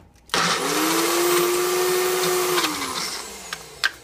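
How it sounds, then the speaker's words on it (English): A kitchen blender purees peppers with a loud, close, steady whir. It runs for a couple of seconds, then winds down, followed by a few faint knocks and rattles. "Blend it up."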